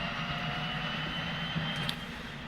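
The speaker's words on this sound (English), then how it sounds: "There we go, we should have a spinning prop" Steady drone of a propeller engine running after start-up in the X-Plane 10 flight simulator, a constant broadband hum with a faint tonal whine, loud and unbroken throughout.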